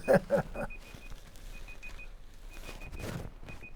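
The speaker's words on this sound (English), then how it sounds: "It's some kind of timer." A small electronic timer beeping in a repeated steady pattern of short high pips, fairly faint, with people talking and moving about around it.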